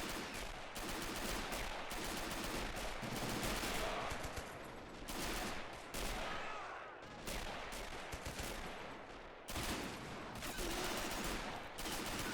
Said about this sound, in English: Defenders outside the headquarters itself taking a lot of fire.